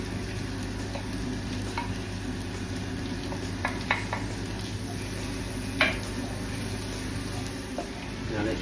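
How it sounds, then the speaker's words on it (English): Baby onions and pancetta frying in a hot mix of butter and olive oil, a steady close sizzle with occasional stirring clinks and scrapes of a utensil in the pan. "baby onions going in. Into my, again, hot butter and olive oil mixture"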